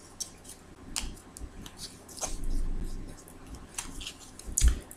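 A deck of tarot cards is cut and shuffled by hand, soft papery slaps and riffles scattered irregularly over a few seconds, close and fairly quiet, with a sharper knock near the end.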